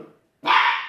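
Flash, a young puppy on his sixth day, lets out a single loud, sustained bark close by after a short quiet pause, with no talking in the moment.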